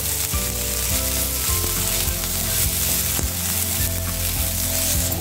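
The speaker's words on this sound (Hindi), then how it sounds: "एक बारीक चॉप किए हुए प्याज प्याज को हल्का भुनेंगे" Finely chopped onions sizzling in hot oil with cumin, mustard seeds and curry leaves, a loud constant frying crackle with repeated scrapes and knocks from stirring.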